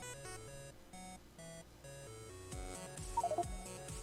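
The timer alarm in Factorio sounds as a quick run of beeps near the end, over steady stepped game music tones.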